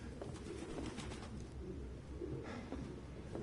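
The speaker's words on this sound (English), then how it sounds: "Pigeons." Pigeons coo steadily in a grimy indoor spot within the video game Detroit, a soft low murmuring that runs through the whole stretch with a few brighter rustles and bursts over it.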